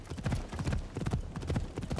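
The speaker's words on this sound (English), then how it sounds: "let's put this horse into high gear now" Horse hooves galloping in Assassin's Creed Shadows, a quick, rhythmic clip-clop of repeated beats, close and fairly loud.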